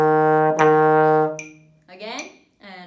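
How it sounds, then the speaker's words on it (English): A trombone sustains a long, steady E flat under a brief vocal count, then plays shorter repeated E flat notes, close and clear. "E flat sounds like this"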